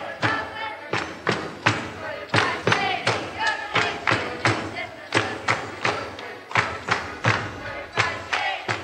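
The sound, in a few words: people stomping grapes in a wine tank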